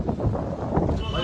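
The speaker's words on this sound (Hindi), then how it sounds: "बहुत तगड़ी हवा चल रही है" Strong, cold wind blows outdoors and buffets the microphone with a continuous loud rumble and roar. Voices mix in beneath it.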